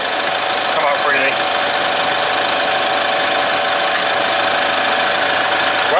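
An Iveco Daily van's diesel engine idles close by with a loud, constant drone and a slight rough knock. The sound holds steady throughout.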